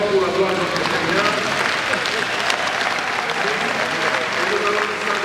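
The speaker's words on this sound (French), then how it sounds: "nous allons acclamer très fort pour la gloire de notre Seigneur" A church congregation applauds and cheers at a special Mass, a steady dense wash of clapping and crowd noise that stays loud and unbroken throughout.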